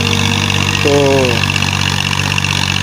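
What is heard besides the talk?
tractor engine working through muddy rice paddy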